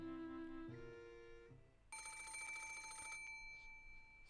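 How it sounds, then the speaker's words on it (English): A telephone rings in the visual novel Umineko, a shrill electronic bell trilling in a sustained burst after a shift of tonal background music, moderately loud and with no voices. "Suddenly the phone rang."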